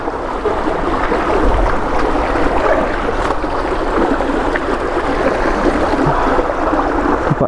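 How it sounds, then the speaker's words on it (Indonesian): Fast-flowing river current rushing steadily with a constant broadband wash of water, close and loud throughout, no voices. "Dan airnya cukup deras banget sungainya."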